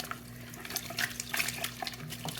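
Water sloshes and drips in a basin as a wet crocheted bag is worked during felting, small splashes and trickles scattered over a quiet, steady background at close range.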